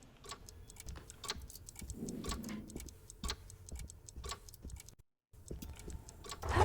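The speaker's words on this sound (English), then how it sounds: "Well, oh, they're all clocks." Ticking clocks in the video game Alone in the Dark, a steady run of sharp clicks and ticks filling the quiet room, briefly cutting out before resuming.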